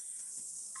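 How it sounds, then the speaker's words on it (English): A steady, high, buzzing drone of cicadas outside a council committee meeting, continuous and fairly prominent throughout, with no talking over it. "I can hear the crickets are alive and well"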